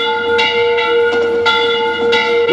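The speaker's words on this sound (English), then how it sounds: "a loud friggin' bell goes off" A loud bell in a 1961 film clangs with a sustained, ringing metallic tone, struck repeatedly at a steady pace of roughly one stroke every third of a second, close and dominant.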